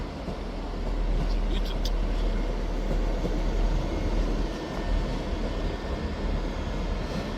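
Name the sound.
Class 158 train 158721 departing Edinburgh Waverley as empty stock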